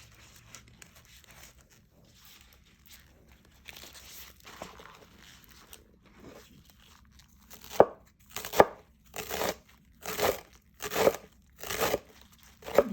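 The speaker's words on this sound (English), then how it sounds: "I like to cut it up very fine." A knife finely chops eddo (taro) leaves on a board, first soft scattered cuts and then a run of about eight crisp, evenly spaced chops that grow louder toward the end.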